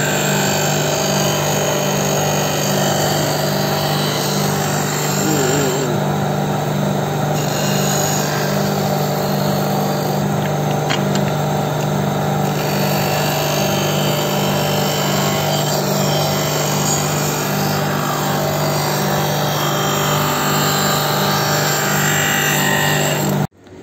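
An SK Enterprise sliding-table glass beveling and polishing machine grinds continuously, a steady mechanical hum with a persistent whine and faint scraping, running without pause for the whole stretch.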